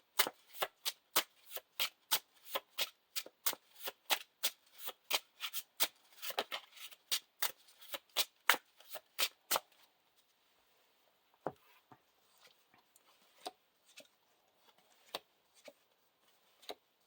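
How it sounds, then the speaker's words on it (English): An encounter deck of cards for a tabletop card game is shuffled in quick, regular riffles for about ten seconds, close and crisp, followed by a few sparse taps and card handling sounds. "Shuffle the encounter discard pile into the encounter deck"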